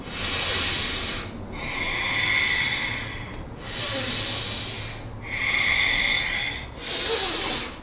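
Deep yoga breaths during a warrior pose, slow audible inhales and exhales alternating in a steady rhythm, about five breath sounds, close and clear.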